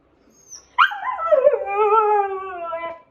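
A husky or German shepherd gives a loud, close, drawn-out howl that starts with a sharp yelp and slides down into a long wavering whine, ending after about two seconds, with no one talking.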